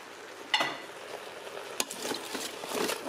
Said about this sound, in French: Donc là je vais juste tout mélanger